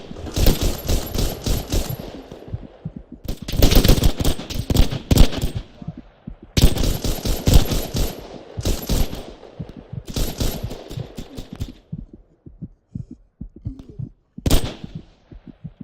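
Rapid automatic gunfire from a World War II shooter game, Hell Let Loose, loud, close bursts of machine-gun fire broken by short pauses, with scattered single shots trailing off toward the end.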